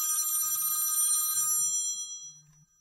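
A telephone rings with a bright, shrill electronic trill that holds for about two seconds and then fades away, over a faint low hum, with no talking.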